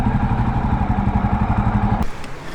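Jawa Perak bobber motorcycle engine idling close by with a steady low, pulsing thump, cutting off abruptly near the end as the bike is parked.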